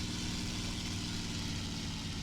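A World War II plane engine in War Thunder drones steadily and loudly at about three kilometres altitude, a dense unbroken hum with no talk.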